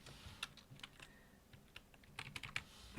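Keys being tapped on a computer keyboard in scattered bursts of quick clicks, fairly close but soft, with a brief faster flurry near the end and no voices.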